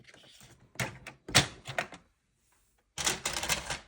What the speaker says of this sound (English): get your trimmer and just cut the bottom bit off